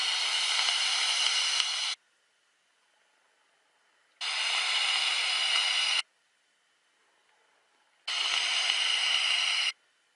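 An Eleaf Ello TS vape atomizer fires at 60 watts in three separate bursts of steady hissing crackle, each about two seconds long, separated by near silence.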